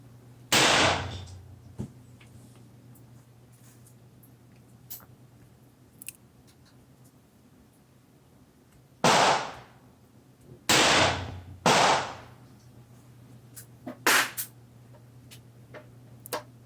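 Smith & Wesson Model 10 revolver fired at a 25 m range: five sharp, loud single shots spaced irregularly, two close together, with small clicks and handling noise between them over a low steady hum.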